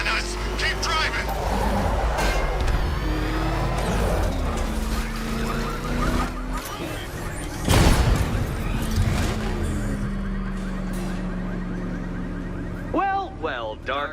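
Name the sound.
car driving in a chase, from a video game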